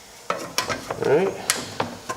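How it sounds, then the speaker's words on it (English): Automotive paint being stirred with reducer in a container, a close run of scraping, swishing stirring strokes and small clicks against the sides, fairly loud and irregular with no voices. "now we're going to just mix it really good."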